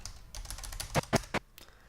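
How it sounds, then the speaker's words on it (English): Arrow keys on a computer keyboard pressed while editing in Premiere CC, a quick series of close plastic key clicks, light taps at first then a few firmer, distinct presses. "there's arrow keys left and right, which makes you go 1 frame at a time"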